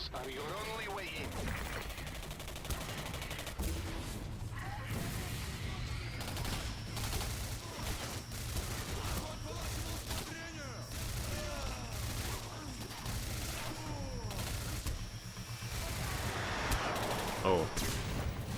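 Sustained gunfire in the video game Singularity, dense bursts and repeated shots running nearly continuously over a steady rumbling background, with voices talking underneath at times.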